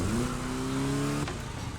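A car engine revving hard in The Crew Motorfest, a raspy, buzzing motor holding a steady high note, loud and close, then dropping off sharply near the end.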